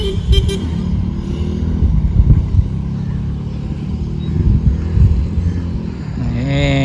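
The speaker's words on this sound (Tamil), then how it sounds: "ஒரு கார் போகுது." A car passes along a road with steady engine and tyre noise, a brief horn toot at the start and a rising whine near the end.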